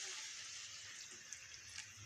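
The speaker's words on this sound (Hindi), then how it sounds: "अब इसमें तकरीबन आधा कप मैं पानी डालती हूँ" About half a cup of water poured into a pot of spiced pumpkin being cooked, a faint, steady splashing trickle that runs evenly throughout.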